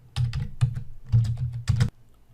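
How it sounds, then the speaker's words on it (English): Steady typing on a computer keyboard while entering Python code, close and fairly loud, with clusters of clacking keystrokes in short bursts before it stops abruptly. "I'm just going to type this in to confirm that it does what I claim"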